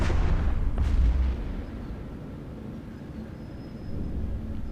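A heavy, booming explosion as a ship is destroyed in the space game EVE Echoes, a deep rumble that swells for about a second, then fades into a low lingering drone.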